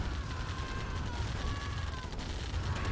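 Rapid gunfire from a pack of attack bikes hitting defensive turrets in Command & Conquer: Tiberian Dawn, a dense, continuous crackle of shots layered over steady game noise.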